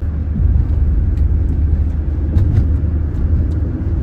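Car in a wedding convoy in Croatia, a steady low engine and road rumble running continuously at moderate loudness, with faint higher ticks scattered through.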